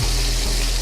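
Bacon and onions fry gently in a pan, sweating down for bacon, liver and onions, a steady soft sizzle holding even throughout with no talk.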